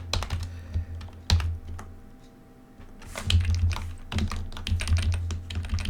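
Rapid clicking of a computer keyboard as someone types out code, in uneven bursts of keystrokes with a short lull in the middle, fairly close and clear with no talking.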